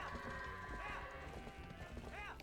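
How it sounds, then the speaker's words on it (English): A horse is ridden in the video game Twilight Princess HD, its hooves clip-clopping in a quick, steady rhythm over game music, with a short whinny-like call near the end. "this is gonna be the last time I ride a horse"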